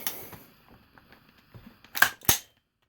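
Two sharp, loud gunshots in quick succession from a firearm fitted with an Echo binary trigger, one shot on the pull and one on the release, following a stretch of quieter handling clicks.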